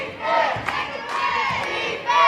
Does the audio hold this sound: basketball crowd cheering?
yes